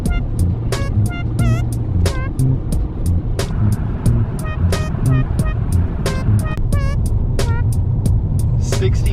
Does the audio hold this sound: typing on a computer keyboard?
no